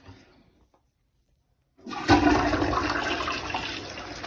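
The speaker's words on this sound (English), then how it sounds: "That's a full flush." A toilet in a house gives a full flush after a quiet pause, a loud sudden rush of water that keeps gushing steadily until the end.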